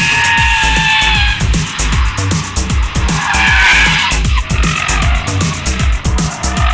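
Porsche Cayenne pushed sideways around the Leipzig circuit, tyres squealing loudly in long skids over a steady, revving engine roar, with no talk.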